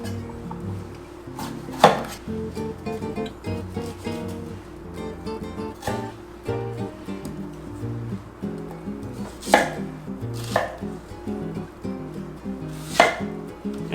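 A knife chops leftover beef chuck into large cubes on a board, sharp repeated knocks at an uneven pace, a few loud strikes standing out over background music.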